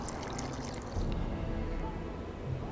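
Water poured into a flask in The Witcher 2, a steady faint splashing trickle running continuously for a couple of seconds.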